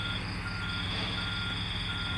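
A bus sounds its reversing beeper while parking, a loud, steady electronic tone close by over the low drone of the vehicle, with no talking.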